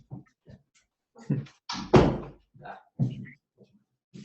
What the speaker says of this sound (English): Excuse me, if I close this door.